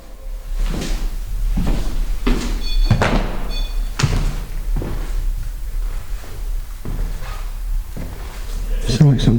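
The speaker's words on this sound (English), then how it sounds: "It sounded like something just hit the door." Sharp wooden thuds and knocks against a door inside an abandoned asylum building, several distinct bangs spaced irregularly over a constant low hum, with a person talking in between.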